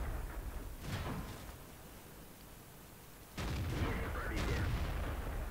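Tank cannon fire in World of Tanks: two heavy booming shots, one early and a louder one after a pause, rumbling over steady engine and battle noise.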